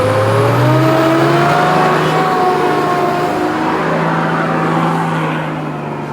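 A 4WD towing a camper trailer on the rocky Old Telegraph Track, tyres let down, its engine loud and close, revving and straining steadily uphill before easing slightly at the end.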